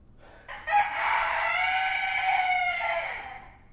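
A pet rooster crows once, loud and close, a single drawn-out cock-a-doodle-doo lasting about three seconds with no other sound around it.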